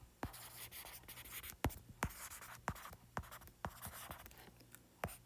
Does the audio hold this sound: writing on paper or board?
yes